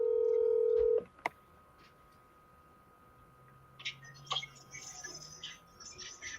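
A phone dials a call. A steady dial tone is followed by a couple of sharp clicks, then quieter tones and faint electronic sounds over a low background hum.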